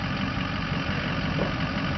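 A cheap $50 generator's engine runs steadily at idle, a continuous broadband drone with a low rumble and no talk over it.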